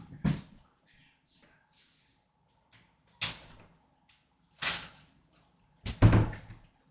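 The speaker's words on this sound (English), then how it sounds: "Let me close this door." Indoor door being closed, several separate dull thumps and knocks spaced out over a few seconds, the last one loudest and heaviest like the door shutting firmly, in an otherwise quiet room.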